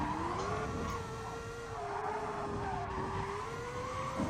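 A car spins out and skids during the start of an online racing game series, with a sustained engine whine and tire scrub that rise and fall steadily over a loud, continuous roar with no talking.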